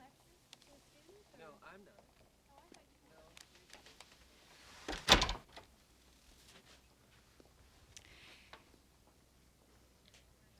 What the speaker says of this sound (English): just close the door